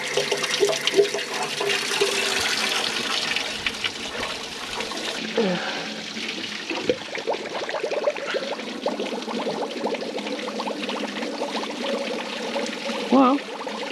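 Water rushes out through a hose laid in a field during road building, a loud continuous gushing flow with some splashing, then a slightly softer steady stream.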